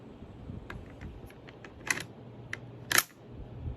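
Bolt of a Siamese Mauser rifle being worked, a series of small metallic clicks and ticks with two sharper snaps as it seats, close and fairly quiet.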